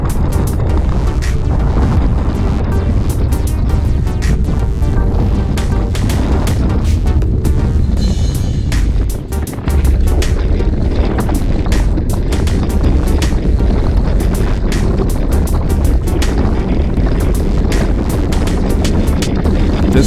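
Wind blows on an exposed hill in the Piedmont Hills during a group bike ride, roaring and buffeting loudly and without a break against the microphone for the whole stretch.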